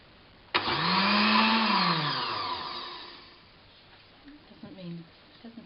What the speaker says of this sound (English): I'm going to blend it.